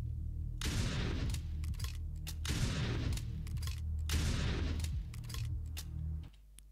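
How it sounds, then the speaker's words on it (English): Double shotgun in the Classic Shooter game fires three loud, close blasts about two seconds apart, each a sharp crack trailing into a rumbling decay, with a clunk near the end. "Now the double shotgun"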